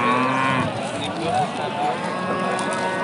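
Cattle at a livestock market, with a low moo rising above a busy, crowded background of voices and market noise, heard close and loud.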